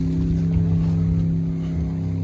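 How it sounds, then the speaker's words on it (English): An airboat engine drones steadily in the background across an open saltwater marsh, a loud, continuous low rumble with a strong hum that never lets up. "You can hear the airboat out there in the background."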